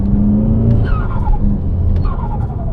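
A Forge blow-off valve on a MK7 GTI releases turbo flutter during a gear shift, heard from inside the cabin with the windows closed: a fluttering chatter over the engine drone, with two descending whistles as revs drop between shifts.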